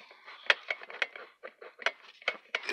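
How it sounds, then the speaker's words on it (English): Light, brittle taps on a resin skull, a quick irregular series of sharp clicky knocks close up, with no talk. "this is a resin skull. You can hear it's brittle"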